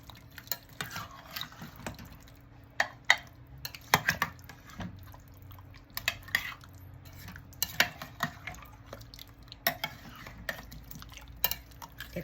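Chicken and olives being stirred in a slow cooker, a utensil scraping and clinking against the pot in irregular strokes with soft wet sloshing, close and fairly quiet, no talk.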